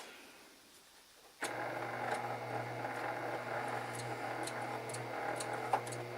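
Sewing machine stitching curved quilt pieces: after a quiet start the motor kicks in abruptly and runs steadily with a fast ticking needle rhythm, close and clear, with a sharp click near the end.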